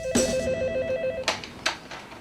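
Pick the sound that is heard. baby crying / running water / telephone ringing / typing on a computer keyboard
telephone ringing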